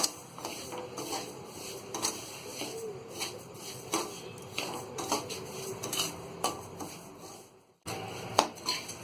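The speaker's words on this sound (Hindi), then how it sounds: "और ये दलिया डालेंगे और इसे हम अच्छी तरह भून लेंगे।" Broken wheat dalia being dry-roasted in a kadhai, with a spoon repeatedly scraping and clattering against the metal pan in an uneven rhythm over a steady sizzle and hiss, close and moderately loud, without speech.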